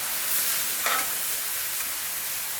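Hash browns, mushrooms and onions sizzle on a Blackstone griddle, a close, steady hiss with a brief scrape of stirring near the start and no voices.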